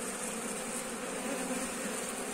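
Robber honey bees swarm a hive they are raiding, a dense, steady buzz filling the air without break, close and loud.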